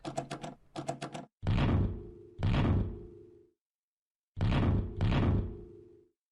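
A door being locked in an RPG Maker horror game: two quick bursts of rattling clicks, then three heavier thuds with a low ringing tail, near and alone with no voices.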